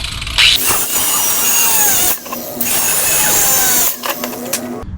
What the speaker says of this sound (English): Goes on a 7 1/4 inch circular saw